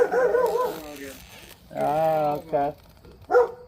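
A dog gives whining, whimpering vocalizations with a short bark-like yelp near the end, close and fairly loud, as a person speaks briefly in the background.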